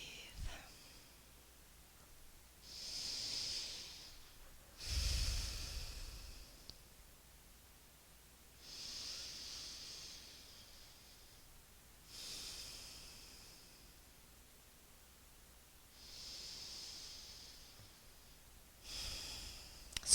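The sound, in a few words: deep breathing during yoga hip stretch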